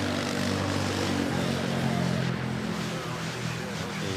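A Cebu Pacific Airbus A321neo landing at Manila airport fills the scene with a loud, steady broadband jet roar that eases slightly toward the end.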